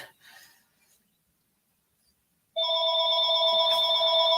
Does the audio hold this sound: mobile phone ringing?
yes